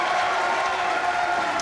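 A bowling crowd at a Weber Cup match cheers and claps after a strike, a dense, steady roar of applause and voices throughout.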